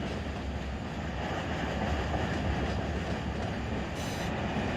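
A freight train rolls steadily through Porphyry Yard in the Run 8 train simulator game, with a loud, continuous rumble of railcars and wheels, plus a brief high squeal near the end.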